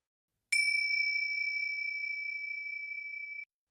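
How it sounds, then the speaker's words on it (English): A single sustained chime, a pure bell-like tone with one overtone, rings out clearly after a brief struck onset and holds steady for about three seconds before cutting off, alone in silence, in an eerie horror setting. "The chime grew louder,"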